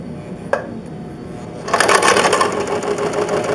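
Sewing machine running as it winds thread onto the bobbin, starting with a click and then a steady, fairly loud mechanical whir that continues to the end.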